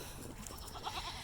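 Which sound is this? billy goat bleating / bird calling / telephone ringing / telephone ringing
billy goat bleating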